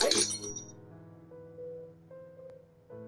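Glass panes shatter in a sharp burst of breaking and clinking shards at the start, then the debris settles into quieter tinkling over a low musical background.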